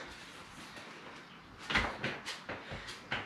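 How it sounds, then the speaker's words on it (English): A door is handled with a string of quick knocks and clunks, a rattle and several sharp bangs in a quiet room, with no talk. "I finally need to open the door at last."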